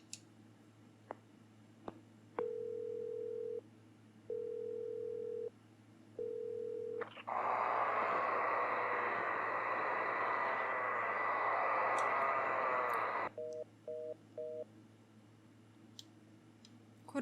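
Telephone in Silent Hill 4, disconnected: a series of short, even beeping tones, then a long loud burst of harsh hissing static, then a few quick short beeps, all alone against a low hum.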